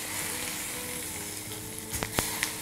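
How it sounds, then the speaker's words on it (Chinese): Hot oil poured over chili powder, minced garlic and white sesame seeds, giving a continuous loud sizzle. A few sharp clinks are heard near the end. "好，这油温烧到6成熟，我们开始把它浇香"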